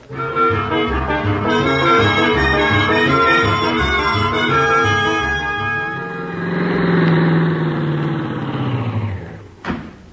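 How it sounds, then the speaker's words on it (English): An old radio-drama car engine turning over and revving, then pulling away with a steady, rising drone that swells and fades before cutting off with a final click. "Start the car, Miss Brooks."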